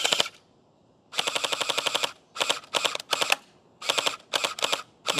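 A Gel Blaster Surge gel ball blaster fires several rapid automatic bursts of sharp, evenly spaced clacks, separated by brief pauses, close up and loud, with no voices.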